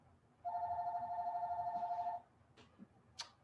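A phone rings during a conference talk with one sustained electronic warble, clear and fairly close, followed by a few faint clicks and rustles in a quiet hall.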